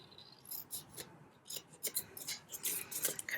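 Scissors snipping through paper during a craft session, a run of quick crisp cuts in an irregular rhythm, close and fairly quiet with no talking.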